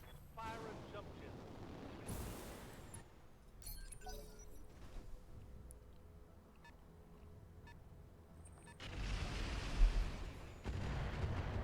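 Battletech Roguetech mod battle with missile and artillery fire: a steady rumble of distant impacts and scattered sharp bursts, interface beeps, and a heavier crash of fire near the end, under ongoing gameplay noise.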